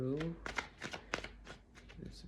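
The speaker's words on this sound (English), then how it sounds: "So if I have to shuffle for 5-10 seconds, that's what I'm gonna do" Tarot cards being shuffled by hand, a series of quick riffling bursts about half a second apart, close and crisp, with a brief spoken voice at the start.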